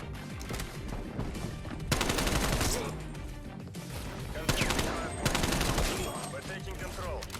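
Dense gunfire rattles in Call of Duty: Black Ops Cold War league play, with rapid automatic bursts and loud single shots coming in waves.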